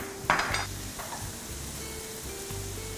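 Noodles for mie kopyok stir-fry in a Debellin pan, with a spatula clack at the start, then scraping strokes and a low steady sizzle at moderate level.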